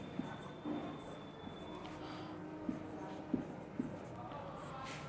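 Marker or chalk writing on a board: soft scratchy strokes and a few light taps in short bursts, faint and close, with a quiet room tone behind and no voice.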